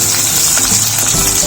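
Raisins tossed into a hot pan while making Ada Pradhaman payasam for an Onam sadya, giving a dense, loud, steady sizzle and crackle of frying with no speech.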